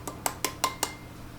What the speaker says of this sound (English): I'm gonna whisk this together.